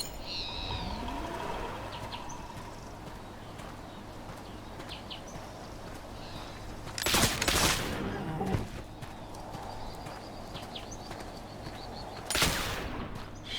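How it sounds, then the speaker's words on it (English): Two sharp broadband gunshots ring out several seconds apart while hunting bison in The Oregon Trail video game, over a steady low game hum and faint chirpy ambience. "It's bison shooting time."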